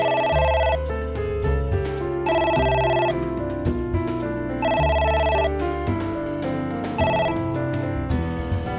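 Repeating telephone ringtone from the video game Ai The Somnium Files, loud and electronic, with bursts of rhythmic ringing recurring steadily throughout over a musical background, no voices.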